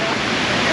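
Water cascading like a waterfall down the sides of the World Trade Center 9/11 memorial pools in New York, a steady broadband rush with no clear breaks, loud and close throughout.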